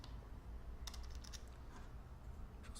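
Soft keyboard typing as a name is entered on a computer keyboard, a short cluster of clicks midway and a few more taps at the end, faint and close over a low background hum.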